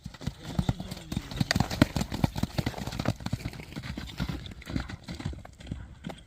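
Horse hooves clip-clopping nearby, a rapid irregular run of sharp knocks over a low engine-like hum, with voices in the background.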